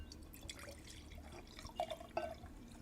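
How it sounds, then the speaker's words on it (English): Wine being poured into a glass, soft liquid trickling and gurgling with a few brighter splashes and glugs near the end, quiet and close. "Let me pour myself a glass of wine."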